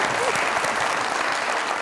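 Studio audience applause on a Pakistani TV comedy talk show, a continuous dense wash of clapping that holds steady for the whole two seconds with no voices over it.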